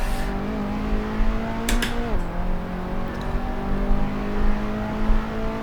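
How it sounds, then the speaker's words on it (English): Car engine revving in the Assetto Corsa racing game, a steady drone with a quick rev burst and gear change partway through, continuous and fairly loud. "The engine's going to blow up if I keep shifting into the engine so much"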